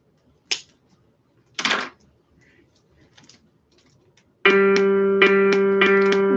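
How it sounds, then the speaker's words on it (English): A single sustained musical note G for perfect pitch ear training, ringing steadily near the end after a few short clicks and quiet gaps, clear and close with a bright, even tone. "That's the sound of a G."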